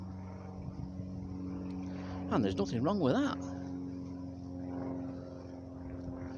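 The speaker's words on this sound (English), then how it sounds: "I'd like to shoot that bloody plane down though. There's always a plane." A propeller airplane drones steadily overhead in a quiet woodland, a low continuous hum heard throughout while someone talks briefly in the middle.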